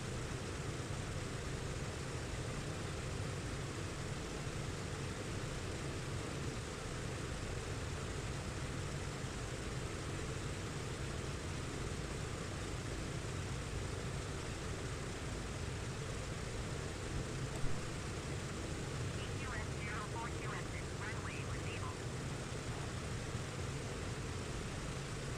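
A jet airliner in a flight simulator game rolls along the runway after landing and turns toward the exit, its steady engine roar and broadband rumble holding constant throughout with no talk.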